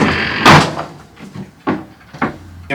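Inside a tiny house, a fold-out table is folded in: a loud wooden thump and scrape, then several softer knocks and taps, close by and sharp.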